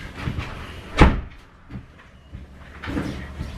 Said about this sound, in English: I want to hear the door slam